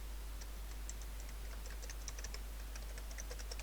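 Quick, light clicking of keys pressed on a computer keyboard, irregular taps in small bursts over a steady low hum, faint and close, with no voices.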